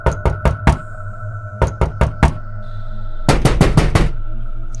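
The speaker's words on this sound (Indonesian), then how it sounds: "Suara ketukan itu terdengar lagi" Knocking on a house door in sharp wooden raps, heard in clusters of three repeated several times, the final group coming faster and denser, close and loud over a low steady hum.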